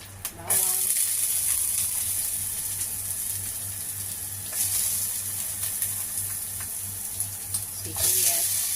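Chopped garlic sautéing in cooking oil in a pan, giving a steady close sizzle and hiss with stirring noises and a low hum underneath.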